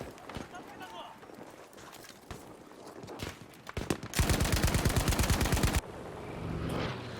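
Automatic light machine gun fire in the World War II shooter Battlefield V, on the Iwo Jima map during a 32v32 Breakthrough match, with a loud sustained burst of rapid shots after earlier scattered distant gunfire, under ongoing talk.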